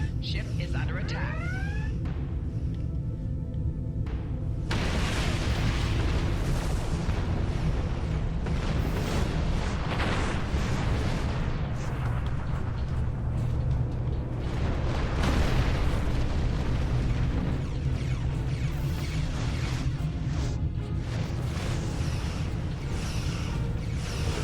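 Explosions and heavy booms rumble continuously as a starship comes under attack in the Star Trek Online space game, with dense, loud blasts layered over an automated alarm voice announcing the attack.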